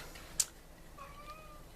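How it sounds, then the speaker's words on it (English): A hungry pet kitten gives a brief, faint meow in a quiet room, a single short call with a small sharp tick just before it, heard alone with no talk. "if you hear something, it's my little kitty. She's starting to be hungry"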